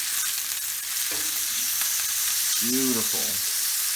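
Steak in a frying pan sizzles steadily right after being flipped, a close, even hiss throughout as a voice briefly speaks.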